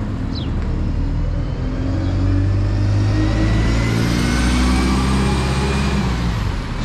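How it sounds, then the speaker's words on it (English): The 11B bus, a once-a-day Saturday service at Ham Street in East Sussex, pulls away toward Ashford. Its engine revs up and drones loudly and steadily, with low rumble building as it moves off, and no talking. "heading up now is our bus heading off to Ashford"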